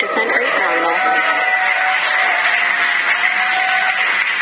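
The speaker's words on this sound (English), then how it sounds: "You can hear the crowd here." A crowd applauds and cheers as the SpaceX Dragon Freedom capsule descends under open parachutes on its return to Earth, a steady roar of clapping and cheering with a voice talking over it.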